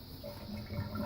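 Bathroom sink drain in an unvented plumbing system gurgling and swirling as it pulls for air, a short soft watery rush that rises slightly toward the end.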